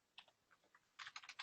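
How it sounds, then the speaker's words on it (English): Typing on a computer keyboard during a business webinar: a few scattered soft keystrokes, then a quick, sharper run of clicks, close and quiet with no talking. "I'm having trouble typing"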